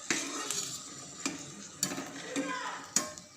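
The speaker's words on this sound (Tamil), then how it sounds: "சட்டியில் ஒரு 6-7 வத்தலை நல்லா வறுத்து எடுத்துக்கிடணும்" Six or seven dried chillies roast in oil in a pan, a quiet crackle under sharp intermittent clinks and scrapes of a utensil against the pan.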